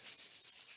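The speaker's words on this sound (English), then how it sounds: "Rub your palms." Palms rubbing briskly together, a close, continuous dry swishing with slight pulses of friction, brief and alone.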